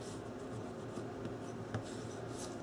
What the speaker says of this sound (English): I'm going to take my bone folder and I'm going to really, really burnish this page hinge in